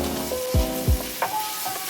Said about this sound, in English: I'm gonna let this pork cook for a while before I add the onion